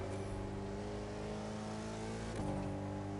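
A car engine in The Crew 2 racing game runs steadily with a strong, even hum, then its pitch shifts upward near the end as it revs harder, loud and continuous throughout.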